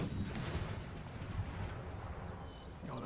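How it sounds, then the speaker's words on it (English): Cannon fire in the video game Empire Total War, a dull rumbling boom rolling on continuously in the distance, low and dense, with a faint crackle fading into the background. "The sound of guns"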